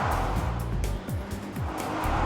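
Busy New York City street traffic, with cars passing close by in a steady, loud roar of engines and tires, several vehicles sweeping past one after another.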